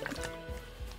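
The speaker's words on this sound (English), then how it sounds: "99-cent store baby oil, and I am pouring it on my monster plate" Baby oil poured from a bottle onto a metal nail-stamping plate gives a faint, soft liquid trickle with a few quiet drips and squishy wet sounds, close by and alone.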